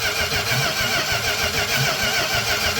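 A car engine cranks over steadily and rapidly at close range during a fuel pressure check, the starter's rhythmic chugging loud and continuous throughout.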